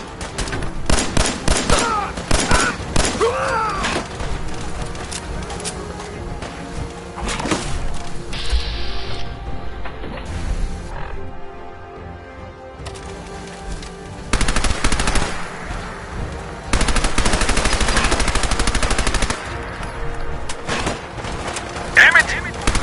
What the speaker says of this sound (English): Another shot.